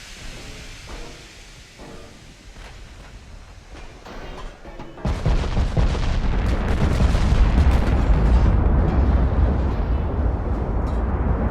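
Naval gunfire in the warship game Ultimate Admiral: Dreadnoughts: faint distant rumbles first, then a sudden heavy boom that rolls into a loud, sustained roar of blasts and low rumble.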